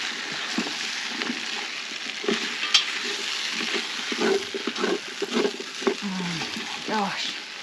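A spoon stirs beef curry in a pan over an Ozpig wood-fired stove, scraping and clinking against sizzling food in irregular strokes, close and moderately loud with no talking.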